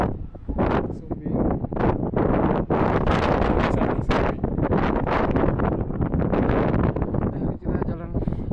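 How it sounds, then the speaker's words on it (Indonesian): Strong wind gusts across Mount Sindoro at night, buffeting the microphone in loud, dense rumbling bursts that rise and fall almost without pause. "Anginnya kencang."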